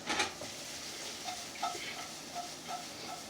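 Beef sizzles steadily in a hot pan while it is tossed and stirred, with a sharp scrape at the start and repeated soft clinks and shuffles as the meat moves.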